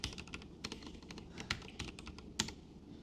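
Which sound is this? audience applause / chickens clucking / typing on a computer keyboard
typing on a computer keyboard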